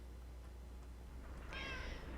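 Cat meowing in a Minecraft modpack game, a single soft electronic-sounding meow over a faint steady background hum.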